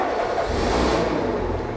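A car engine cranks and catches after the ignition key is turned to its last position, in a mechanic training workshop; a loud, steady, close engine roar runs throughout with no pause.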